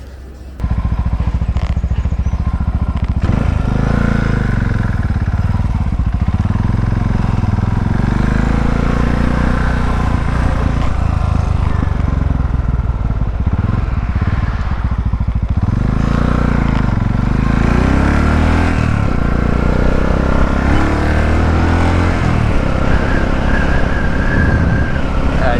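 Motorcycle ride through mountain roads in hot weather high up in Italy, the engine a steady loud drone with rising and falling revs and constant wind rush throughout.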